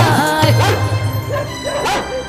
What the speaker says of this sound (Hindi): जब तो ये कुत्ता मन लगाकर भौंको ही जा रहा है, भौंको ही जा रहा है।